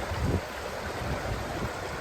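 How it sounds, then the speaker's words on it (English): The Cowsick River on Dartmoor flows in a steady, close rushing wash with a low rumbling undertone, continuous and unbroken with no voices. "I've reached the Cowsick River"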